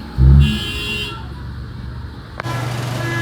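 Horns honk on a busy road in Merwa traffic, a loud blaring toot up close at the start, then steady mid-pitched horn tones and traffic rumble continuing throughout.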